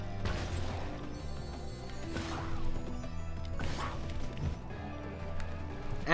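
A cartoon dragon crashes mid-flight in the video game Spyro 2: Ripto's Rage Reignited, with a couple of loud smacking impacts over busy game music and effects.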